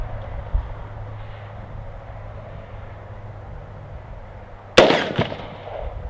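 A single 5.56 NATO 62-grain rifle shot cracks sharply, followed by the ring of the bullet striking a steel plate at an outdoor range, one loud burst after several seconds of low wind-like background.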